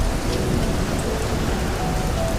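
Raindrops falling and dripping from a roof, a steady dense patter of rain heard close and continuous with no voices.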